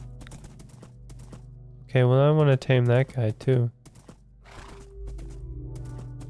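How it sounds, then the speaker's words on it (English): A Minecraft donkey lets out a loud, wavering bray made of several rising and falling honks, heard near. Quiet hoof-like clicks and a player talking come before and after it. "Aw, a donkey."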